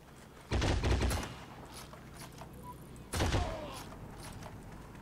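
Machine-gun fire in the online shooter Heroes & Generals, two loud rattling bursts about three seconds apart, each fading into a lingering echo over a low battlefield hum, with no speech.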